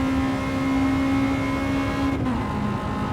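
A front-wheel-drive Honda with a VTEC engine howls at high revs on the Nürburgring, a loud, steady in-car drone that dips briefly near the end as if shifting gear.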